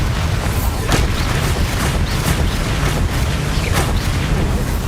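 Booming spell explosions from the Bombardo curse in Hogwarts Legacy, a dense continuous barrage of thuds and bursts with repeated sharp cracks over a constant low rumble, loud and close throughout.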